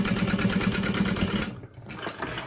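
A sewing machine runs a short basting stitch on a handbag seam, giving a rapid, even mechanical whir that stops briefly near the end and then resumes more quietly.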